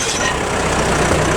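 A JCB backhoe's diesel engine runs steadily at close range, a loud, continuous broadband rumble without breaks.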